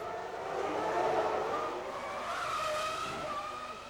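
Formula 1 race cars at a race start in the video game F1 2000, a pack of high-revving engines whining and rising in pitch together, loud and continuous, with no voices over them.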